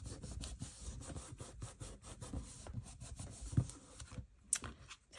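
A glued WRMK thermal Cinch book cover being rubbed and pressed down by hand, a faint, steady scraping rub with soft irregular scuffs, close and quiet with no talking.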